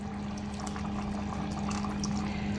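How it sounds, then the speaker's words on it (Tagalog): Canned coconut milk pours steadily into a cooking pot in a home kitchen, a continuous close liquid splashing over a low steady hum, with no talking. "dadagdag ako ng isang coconut milk, yung sa lata"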